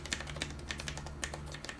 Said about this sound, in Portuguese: Vamos colocar aqui, apertar as teclas um pouquinho.